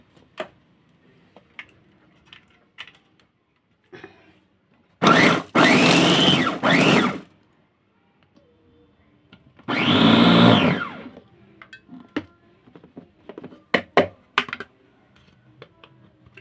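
A kitchen blender grinds green chili peppers in two loud bursts of a few seconds each, separated by quiet pauses filled with small clicks and handling noises.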